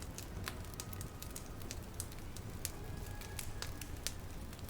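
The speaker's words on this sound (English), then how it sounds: "listening to the fire hum and crackle away" A cozy indoor fire crackles steadily with sharp scattered pops over a soft, low hum, close and gentle, with no talking.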